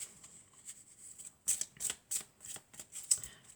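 An oracle card deck being cut and shuffled, with a series of soft, crisp riffling bursts in an irregular rhythm, close and quiet with no talk.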